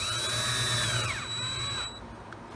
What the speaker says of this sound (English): Screw it into this dummy piece of wood here.